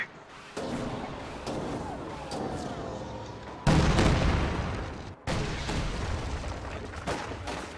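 An M36 tank destroyer fires shells in a tank battle game, sending several heavy booms with sharp onsets and rumbling tails that repeat across the stretch, over a faint voice.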